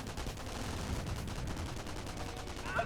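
A Company of Heroes battle produces dense, continuous gunfire. Rapid bursts of machine-gun and rifle fire overlap into a steady rattling barrage at moderate loudness, with no voices.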